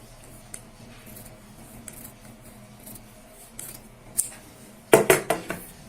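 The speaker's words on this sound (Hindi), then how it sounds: "सबसे पहले हम यहाँ पे जो एक्स्ट्रा पाइपिंग वाला कपड़ा होता है इसको कटिंग कर लेते हैं" Scissors snipping off extra piping fabric while stitching a halter-neck kameez front, a few quiet clicks early on, then a close, loud run of sharp rhythmic cuts near the end.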